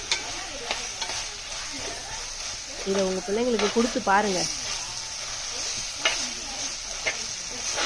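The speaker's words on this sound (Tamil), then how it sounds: "அடுத்தது நம்ம எடுத்து வச்ச பாஸ்தாவை போட்டு நல்லா அந்த மசாலாவில் படுற மாதிரி கிளறிக்கலாம்" Pasta being stirred into a masala in a hot pan, giving a steady soft sizzle with scraping and clinks of the spoon against the pan, running beneath someone speaking.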